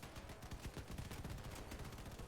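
Rapid bursts of cannon fire in an arena video game, a dense run of booming shots at low, distant level with no voices over them.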